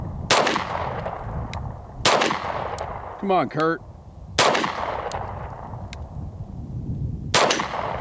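Apollo 11 Compact pistol, a 2011-style handgun, fired outdoors at steel targets: four sharp, loud single shots spaced a second or two apart, with faint metallic rings from hits and a brief voice between shots.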